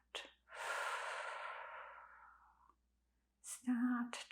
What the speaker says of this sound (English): Take a deep breath in